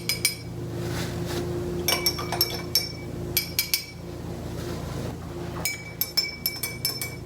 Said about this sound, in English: I got my spoon, and we're going to stir each color to make sure it's well mixed inside the glass